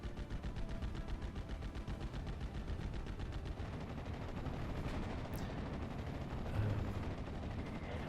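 Sustained bursts of .50 cal machine gun fire in the WWII strategy game Steel Division: Normandy 44, rapid and continuous over a dense wash of distant battle noise, steady and loud throughout.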